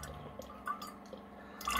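A water filter dispenses water, giving irregular drips and small splashes that land softly and close by, with a brief gurgle as trapped air clears the filter, and no talking.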